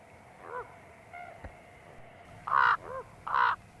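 A raven calls outdoors in Yellowstone with a few hoarse caws, two of them loud and close, between softer croaks over a quiet background.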